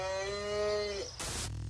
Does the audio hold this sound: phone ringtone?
no